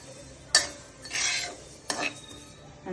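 Sesame seeds being stirred and fried over high heat in a pan, with sharp scrapes at moments and longer raspy sweeps of the spatula across the metal, set against a faint background sizzle.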